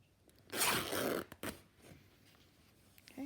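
Fabric is torn into strips for a stitched journal project, heard as one long, close, ripping tear followed by shorter, sharp rips and small rustles in a quiet room.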